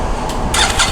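A CFMOTO UFORCE 1000 side-by-side fitted with an RJWC exhaust and quiet core cranks and fires up, a muffled mid-level rumble that swells in the second half.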